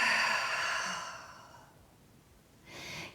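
A long, audible exhale during a Pilates reformer rotation exercise, a breathy sigh that fades out, followed by the start of another soft breath, close and without talk.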